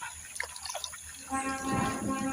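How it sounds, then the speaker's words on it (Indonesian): Wild fruit being washed by hand in a forest river, close splashing and trickling water that grows louder toward the end, with brief speech early on. "Kita cuci dulu di sungai."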